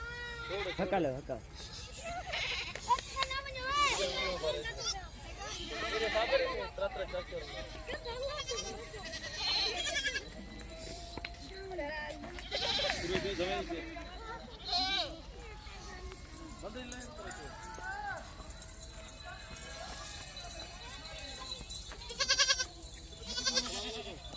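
Goats and their young kids bleating repeatedly at close range, overlapping wavering cries rising and falling throughout, with people talking in between and over the animals.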